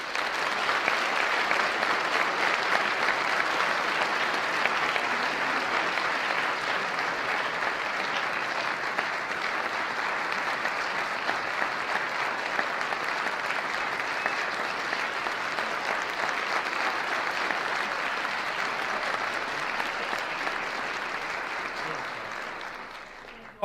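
A large audience bursts into steady, sustained applause welcoming Newt Gingrich to the stage at a Cornell speaking event, dense clapping held at an even level for over twenty seconds before tapering off at the end.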